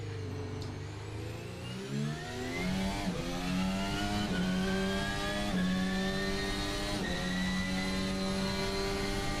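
An F1 car engine in the Assetto Corsa racing game, driven without assists on its stock setup, revs through a series of rising upshifts. Each gear climbs in pitch before a brief drop, loud and close with no talk.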